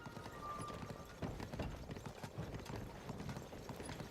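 Hooves clip-clop steadily in a quick, even rhythm as a horse trots in Zelda: Tears of the Kingdom, heard fairly quietly with a soft game-world ambience behind it and no talk.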